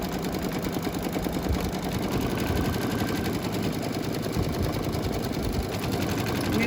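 Embroidery sewing machine slowly stitching a coaster, a continuous close mechanical chatter with a fast steady needle rhythm that runs unbroken throughout.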